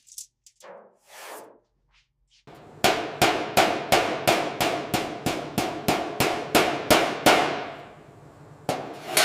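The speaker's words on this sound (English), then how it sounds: "The rolled edges are finished with a hammer and dolly, perfecting the wire edge" Hammer and dolly strike rolled metal wire edges on the rear body panel of a 1937 Bugatti Type 57SC Atlantic under restoration: after a few light taps, a steady run of about fifteen sharp, ringing metallic blows at a regular pace, loud and close, with no talk.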